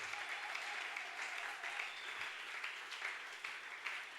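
Audience at a church conference clapping, a dense, steady wash of applause from a large crowd that runs throughout, with no talk over it.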